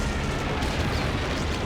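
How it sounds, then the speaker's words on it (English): A dive-bomb explosion in Company of Heroes 3, a loud dense blast that fills the whole brief moment with continuous rumbling roar, close and overwhelming, with no voices. "that's going to be a nasty dive bomb"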